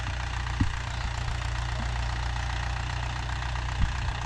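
Mahindra Yuvo Tech Plus 585 4WD shuttle-gear tractor running a 42-blade rotavator, a steady low diesel drone with knocking pulses and a couple of brief thumps, continuous and close throughout.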